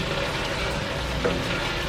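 Mirepoix sizzling in a pot during chicken noodle soup preparation, giving a steady, close frying hiss that stays even throughout with no speech.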